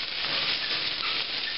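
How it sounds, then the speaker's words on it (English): Spices toasting in a hot cast iron pan with fried potatoes and onions, a steady close sizzle and hiss that runs unbroken without pause. "I'm going to toast the spices a little bit"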